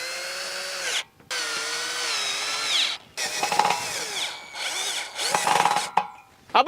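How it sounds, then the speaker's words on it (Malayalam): A power screwdriver drives a screw to tighten a wheel and motor setup, whining in several bursts that rise and fall in pitch, with brief pauses between and gritty scraping at the end. "ഇനി ഇത് സ്ക്രൂ ചെയ്ത് കൊടുക്കാം"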